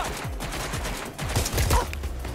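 In the video game Watch Dogs: Legion, a rapid burst of gunshots cracks out, several close, sharp reports in quick succession.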